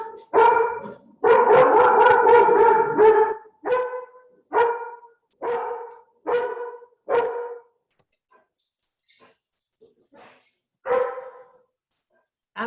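A dog in a garden barks in loud, close bursts, first a rapid run of barks, then single barks spaced about a second apart, a long quiet gap with faint sounds, and one more bark near the end.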